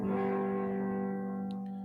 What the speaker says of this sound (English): just put your pick on top of the open G string. Should sound like this.